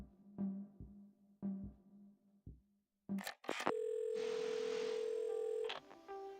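A telephone dial tone in the video game Assemble with Care rises as a steady held tone for about two seconds, loud and alone, after a few short rhythmic tones and clicks as the handset is picked up.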